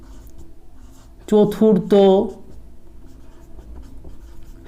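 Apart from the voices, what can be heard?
writing the answer by hand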